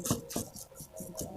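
A coarse brush scrubs soil off the roots of a hibiscus bonsai, giving repeated rough rasping strokes in a steady rhythm, close and moderately loud with no talk.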